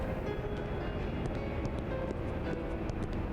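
A train in the video game Anachronox gives a steady low rumbling drone with faint rhythmic clicks on top, continuous and even throughout.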